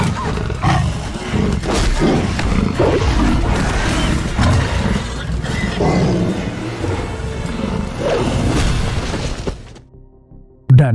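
A zombie tiger roars in a film, a loud, sustained growling roar layered with crashes and booms that fill nearly the whole stretch before dropping away, then a sharp burst at the very end.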